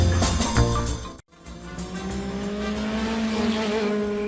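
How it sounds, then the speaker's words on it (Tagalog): A motorcycle speeds past with a loud, strained engine roar, a brief dropout partway through, then a steady high whine that rises as the bike pulls away, with no voices. "Anya metendet agpat-pataray iti motorsiklo. Nagpigsa ti ungor na."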